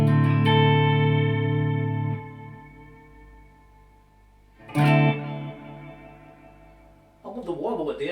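Guitar played through a Strymon Volante magnetic echo delay pedal on its Studio Regen setting: a sustained chord rings out and fades into repeating echo, then a second struck chord and a busier burst of notes near the end.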